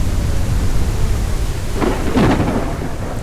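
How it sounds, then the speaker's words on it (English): A storm on a planet in the video game SpaceBourne 2 brings a loud, continuous wash of wind and rain, broken midway by a rolling crack of thunder. "Really does feel like you're in a storm here"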